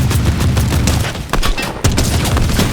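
Fortnite gunfire: loud, dense bursts of rapid shots with booming impacts, continuous across the moment with a brief dip midway, no voices over it.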